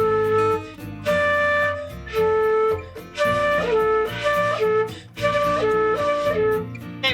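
A flute sounds the note A repeatedly in a run of clear, breathy phrases with brief pauses between them, close and prominent, with no voices.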